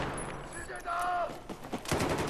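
Burst fire from an M16A4 rifle in Battlefield 4, short rattling volleys mixed with other game sounds, moderately loud and repeating across the moment.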